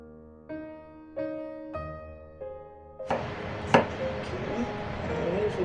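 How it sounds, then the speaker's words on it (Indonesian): Knife chopping on a board, first a few slow spaced cuts, then a rapid busy run of thin slicing with a sharp knock, close and fairly loud, while preparing shallots, garlic and chilies for a home meal. "Potong-potong tipis seperti biasa aja teman-teman."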